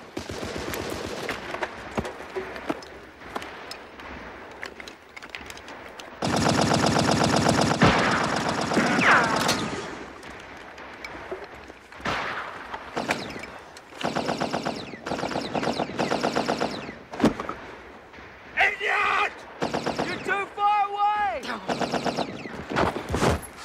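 Machine gun fire sounds in First World War trenches: a long sustained burst, then many shorter rattling bursts and scattered loud shots, with shouting voices between the volleys.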